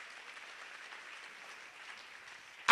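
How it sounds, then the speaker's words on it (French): Applause from a church congregation, a steady, distant-sounding patter of many clapping hands that holds evenly throughout, with a sharp loud burst right at the end. "On acclame très fort pour la gloire de Dieu."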